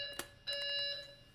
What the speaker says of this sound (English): Oh, fire alarm. Fire alarm.